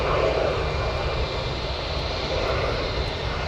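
Jet airliners lined up and taxiing at Chicago O'Hare Airport in the evening, a continuous airplane engine roar and hum held steady and fairly close throughout, with no voices.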